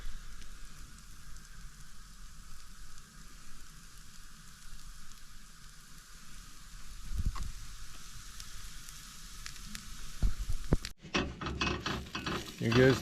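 Food sizzles on a Camp Chef outdoor stove, a faint steady hiss through most of the stretch, then louder crackling and clatter near the end as cooking is handled up close.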